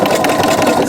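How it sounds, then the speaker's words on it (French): A sewing machine running steadily through thick layers of fabric, a loud, close mechanical whir with a fast, even stitching rhythm throughout and no voices. "Ça c'est ma super machine qui passe les épaisseurs tranquillement."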